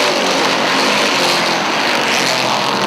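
Dirt modified race cars at Airborne Speedway in Plattsburgh, New York, roar down the backstretch in a loud, steady, broadband engine howl that stays close throughout, with no talking.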